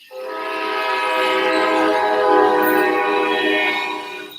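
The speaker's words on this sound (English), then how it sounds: "train just went through." A train rolls past close by, its horn sounding a loud, sustained chord that swells and holds for several seconds over the low rumble of the cars.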